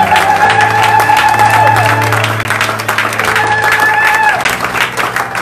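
Church congregation clapping and cheering during praise worship, a loud dense wash of applause with shouts and whoops running throughout.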